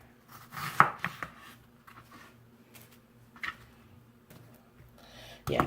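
A knife chops an onion on a cutting board in a few sparse, quiet strikes with long gaps between them, close by in a quiet kitchen.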